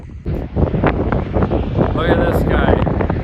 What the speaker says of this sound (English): We got a south wind here right now